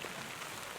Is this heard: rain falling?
yes